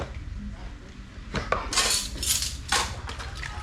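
Plates and cutlery being handled while set out to dry in a home kitchen: close clinks and clatters of dishes over a steady background hum.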